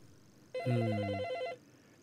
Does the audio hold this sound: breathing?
no